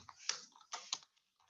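A few quick keystrokes on a computer keyboard as a message is typed, in short irregular bursts with brief pauses, fairly quiet and close.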